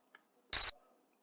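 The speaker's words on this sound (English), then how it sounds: "let's preview this cricket sound" A cricket chirp from a sound library plays as one short, bright trill of about four quick pulses, clear and isolated against silence.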